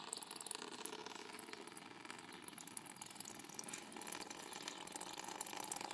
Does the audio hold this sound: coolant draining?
yes